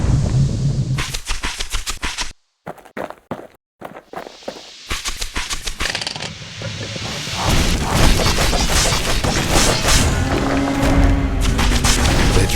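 Guns fire at a skiff in the Bastion video game, loud sharp bursts and booming impacts in irregular volleys that thicken into a dense, continuous barrage of crashes and blasts.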